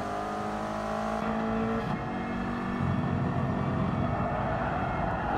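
A race car downshifts into second gear going through a sausage kerb, the engine note dropping sharply and then holding a steady, loud mechanical drone from inside the car.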